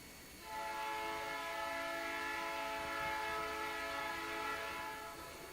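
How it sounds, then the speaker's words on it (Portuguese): A train passing outside during a church service, a sustained horn chord swelling in after a quiet start and holding steady and fairly distant, with a low rumble beneath. "então também somos contemplados com o trem agora"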